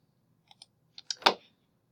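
A few quick keystrokes tap on a computer keyboard, close and clear in a quiet room, ending in a small flurry of clicks.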